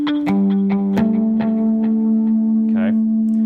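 Electric guitar harmonics at the 12th fret on the top strings, played through effects, ringing bell-like plucked tones with echoing sustain.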